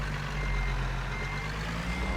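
A truck reversing in American Truck Simulator, with a steady low diesel engine drone and a continuous high-pitched backup beep tone, close and loud throughout.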